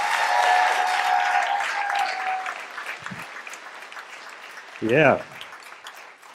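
Audience applause and cheering for a comedian at a live show, loud and sustained at first then tapering off, with a man's short spoken word near the end.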